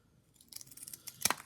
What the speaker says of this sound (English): get a nice sturdy pair of scissors and then go around and trim